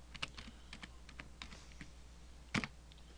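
Keystrokes tapped out on a computer keyboard to enter a command at a command prompt, a quiet, uneven run of light clicks with one louder key strike near the end.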